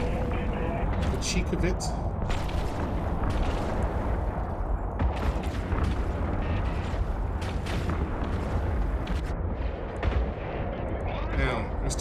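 Missiles pound the player's ship in the space game EVE Online: a dense, continuous barrage of booming, crackling impacts and launches that fills the whole stretch, with someone talking over it.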